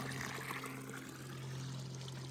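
Water trickles and pours softly as it is scooped from a small mountain brook in the Smoky Mountains, a faint, steady burble with no voices.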